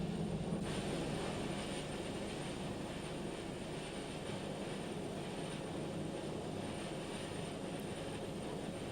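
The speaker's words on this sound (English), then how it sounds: "the Lockheed Hercules has become one of the most successful aircraft of all time" Engines of a Lockheed Hercules aircraft drone in a steady, unbroken roar that stays fairly faint and even throughout, with no voices.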